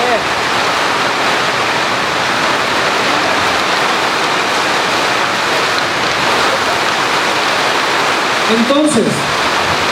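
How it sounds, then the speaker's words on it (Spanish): Steady rain falls throughout, a dense, loud hiss of drops at constant level, with a voice speaking briefly over it near the end. "es la lluvia que está cayendo del cielo."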